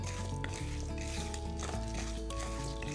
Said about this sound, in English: And now, just roast this till you get a nice smoky aroma of the chilies.